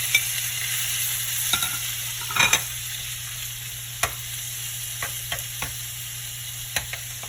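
Shrimp and softened aromatics sauteing in a pan, a constant low sizzle with scattered clinks and scrapes of a utensil, no speech.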